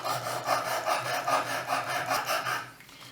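Knife blade rubbed in steady back-and-forth strokes over a 320 grit stone on a clamp-style sharpener, a loud, close rasping scrape repeating about every half second with no talk.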